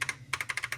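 Quick, crisp clicks from a no-name replacement key pressed on a laptop keyboard: two taps, a short pause, then a fast run of about six evenly spaced presses, close up and with no voices.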